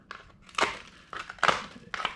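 Cold, hard propolis on a beehive frame crunches and cracks off in four or five sharp, brittle snaps, close and distinct, with no talking.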